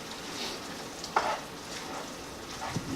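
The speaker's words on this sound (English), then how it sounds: "So while our meat and onion mixture is finishing cooking" Meat and onion mixture for shepherd's pie frying in a pan, with a soft steady sizzle, a brief clink near the middle and another faint knock near the end.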